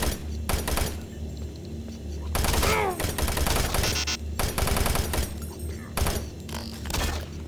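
Rapid machine gun fire from the video game Doom 3 comes in loud repeated bursts, mixed with heavy thuds and impacts, close and dense, with a player's voice speaking now and then between the shots.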